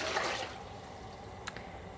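Water poured from a container into a stock pot on a cooktop, a brief splashing gush up front that tapers into a quieter trickle, close and alone with no talking.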